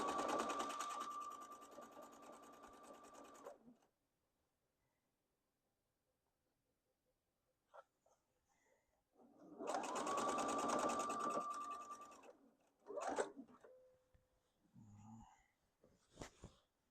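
A Viking sewing machine stitches a quilt top in two steady whirring runs of about three and a half seconds each, separated by a quiet pause, followed by faint handling clicks and rustles.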